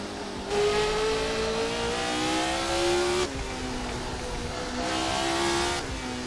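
A 1970 Formula 1 car engine in Assetto Corsa screams loudly and steadily, climbing in pitch through the gears with brief dips at each upshift, heard close and alone.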